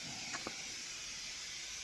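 Steam pressure in an industrial boiler hisses steadily and faintly, a constant airy rush with a couple of tiny knocks near the start.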